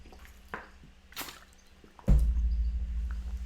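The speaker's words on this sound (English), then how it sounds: "so I'm going to have some water." Water being poured and drunk: faint clicks and small drips at first, then a sudden close, loud, sustained liquid rush of pouring that continues to the end.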